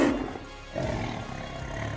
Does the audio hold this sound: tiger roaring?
yes